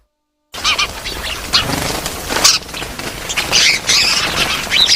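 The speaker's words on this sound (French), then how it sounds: "Ces oiseaux semblent être en fait dans la réserve naturelle communautaire de Palmarin" Migratory birds squawk in a Senegal nature reserve at Palmarin, a dense, continuous overlapping chorus of harsh calls and chirps after a brief silent start, loud and close with no talking.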